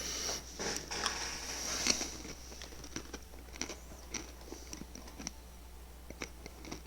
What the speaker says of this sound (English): Sorry for the munching